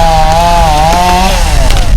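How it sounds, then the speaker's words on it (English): Chainsaws running steadily outdoors as crews cut up trees toppled by a storm, a continuous loud engine whine with shifting pitch throughout. "the chainsaws are out cutting up trees that have fallen over"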